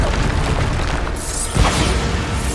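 A Bombarda spell blast in Hogwarts Legacy, a loud, dense booming explosion within continuous battle noise, with one stronger burst standing out partway through.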